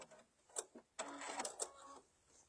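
A home embroidery machine stitches out a detailed design in short mechanical bursts, a few brief whirring runs followed by a longer buzzing stretch, fairly quiet and close with no speech.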